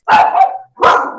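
A dog gives two loud, close barks, the second following a brief pause after the first, with no talking over them.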